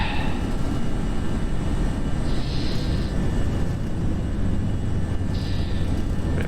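An Avianca airliner in the Prepar3D v4.5 flight simulator takes off, its engines giving a steady, loud broadband roar with a low rumble beneath and faint higher whines throughout.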